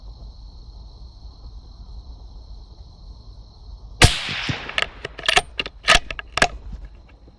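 A Precision AICS rifle in 6.5 Creedmoor fires at hogs in the woods: one sharp, loud shot breaks a quiet night hum, then a scatter of further cracks and rattles follows in quick irregular succession.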